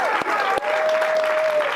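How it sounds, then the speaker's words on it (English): A lively studio audience in Studio C applauds, a dense continuous wash of clapping filling the room from start to finish with a steady, full loudness. "another great crowd for you here in Studio C, and yeah, they're lively"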